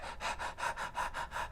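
A human voice imitates a dog panting in a cryopod, with about eight quick, even, breathy huffs in steady rhythm, close and alone.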